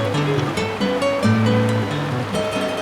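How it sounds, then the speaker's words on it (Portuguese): A clear stream flows at Banho do Belchior on the Caraça sanctuary trail, a steady, loud rushing wash with no talk and a layer of sustained tones running over it. "chegamos ao banho do Belchior, um riacho de águas transparentes e refrescantes"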